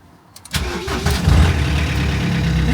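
A salvage car that has sat unused for a long time cranks briefly, fires up with a loud catch, and settles into a steady, even idle that runs on without a break.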